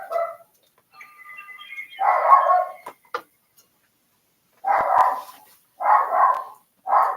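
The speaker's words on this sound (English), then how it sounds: "My dog's freaking out." A real dog barks in a room during a Tears of the Kingdom play session, several loud, close barks in separate bursts with short silent gaps, plus a brief whine and a clicking tick early on.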